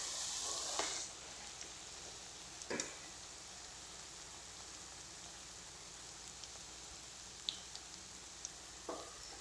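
Food frying in a generous amount of oil while browning for a gravy, a steady soft sizzle throughout with a louder crackling burst at the start and a few brief stirring clatters.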